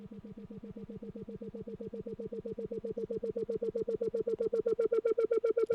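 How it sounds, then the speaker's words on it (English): A Logic EXS24 sampler tone has its filter swept by a fast LFO, producing a rapid, regular throbbing pulse of a steady pitched note that grows slightly louder and brighter as it continues. "essentially what the LFO is doing is sort of modulating the sound, modulating the filter according to its frequency"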